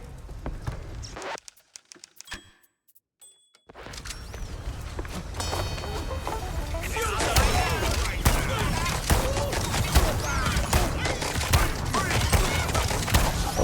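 Shotgun fire in the video game Mouse: P.I. For Hire, a dense run of rapid blasts and impacts layered with game effects and music, loud and continuous after a brief quiet gap.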